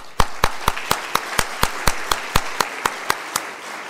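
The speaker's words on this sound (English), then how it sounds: "Please put your hands together and congratulate them all." Claps from a school conference audience, heard as a sparse, regular run of about fifteen sharp hand claps, evenly spaced and fairly close, with no voices.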